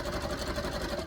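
Sewing machine stitching elastic onto wrestling tights, a quick steady mechanical whir and needle chatter that runs evenly the whole time, close and fairly quiet, with no talking.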